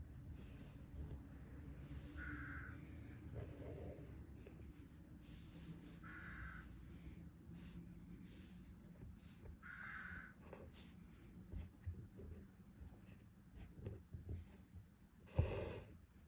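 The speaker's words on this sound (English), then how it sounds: "Very excitable bird out there." An excitable bird calls outdoors, giving several separate caw-like cries spaced a few seconds apart, moderately distant, over a low steady background hum.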